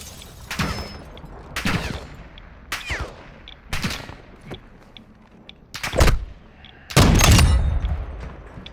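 Video game gunshots crack out one at a time, sharp and loud with pauses of about a second, ending in a heavier, sustained burst near the close.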